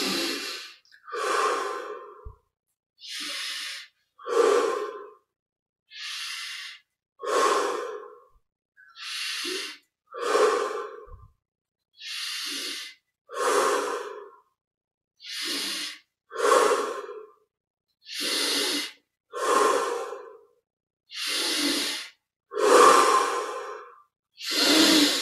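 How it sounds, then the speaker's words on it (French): Deep, slow breaths during a seated meditation and breathing exercise, a long series of steady inhales and exhales with brief pauses between, close and clear with no talking. "25 respirations profondes."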